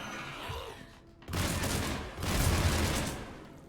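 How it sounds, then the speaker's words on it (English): Gunfire from Garrus's gun firing explosive bullets in the video game Mass Effect 3, dense bursts of rapid shots and blasts in two loud surges with a brief lull between them, and no talk. "Garrus's gun, by the way, it's like has like explosive bullets"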